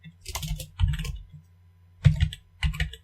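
Computer keyboard typing in a few short bursts of clicky keystrokes, close and fairly quiet, separated by brief pauses.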